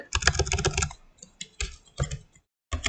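Quick bursts of computer keyboard typing while code is entered, close and crisp, with clusters of rapid keystrokes broken by short pauses, and no talking.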